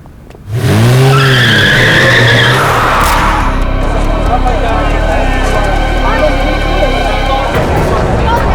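A car driven recklessly brakes hard, with loud close tire screeching that slides down in pitch, then a raw engine rumble and commotion as people shout over it.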